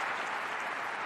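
A football stadium crowd at an FC Tokyo versus Nagoya Grampus cup semi-final applauding, a steady dense wash of clapping and cheering heard from a distance without clear breaks.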